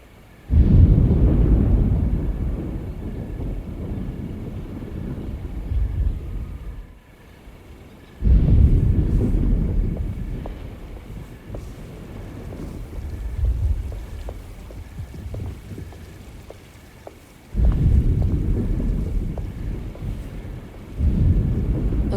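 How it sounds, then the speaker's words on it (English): Thunder rumbles with rain in a game scene as a storm approaches, loud low rolling surges swelling and fading repeatedly over a steady backdrop of rain and wind, no voices. "Looks like a storm's coming."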